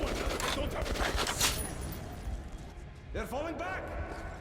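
Enemy gunfire in the shooter game Metro Last Light, a dense, loud spray of shots and impacts through the first couple of seconds, then a quieter stretch with ringing, swooping game effects while a voice talks throughout.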